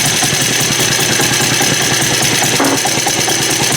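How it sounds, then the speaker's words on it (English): An old PA engine with a carburetor fault idles loudly and close by, a steady rapid chugging pulse that holds an even rhythm throughout, with no voices over it. "Seems to idle not bad, but it just won't take any throttle."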